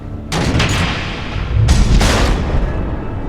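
Missile explosions in the Batman Telltale video game, two heavy booming blasts in quick succession with a rumbling tail, loud and close.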